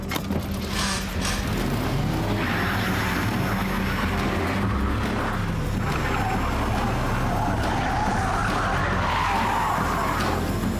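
A car is driven hard with a sustained loud engine roar, tyres rushing and skidding, and the revs rising and falling throughout, close and continuous with no voices.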